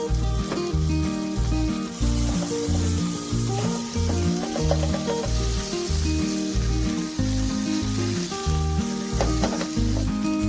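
A tablespoon of butter sizzles and crackles steadily in a pan for a homemade pizza sauce, a continuous close frying hiss beneath loud rhythmic background music.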